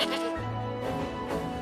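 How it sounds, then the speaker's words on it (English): Mountain goats bleating at an alpine setting, several wavering, nasal calls overlapping in quick succession, close and fairly loud with no other sounds. "He loved all the sights and all the sounds, especially the sounds of the mountain goats."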